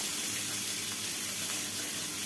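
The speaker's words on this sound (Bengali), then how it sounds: "পেঁয়াজটা এবার ভালো করে ভেজে নেব।" A medium onion sizzles in hot oil in a pan, a steady hissing crackle that stays even throughout with no talk over it.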